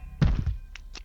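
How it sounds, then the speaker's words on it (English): A single dull thud from downstairs, muffled and fairly close, followed by a couple of faint lighter knocks, with no talking. "Another thud followed."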